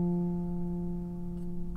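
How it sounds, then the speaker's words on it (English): A single piano F note sustains softly and fades, heard close and quiet in a calm, soft-spoken lesson setting with no talk over it. "An F normally sounds like this."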